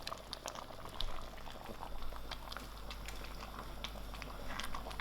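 Chicken dhal gosht bubbles at a fast boil on a stove, a thick stew giving a dense, continuous popping and blipping with no voices.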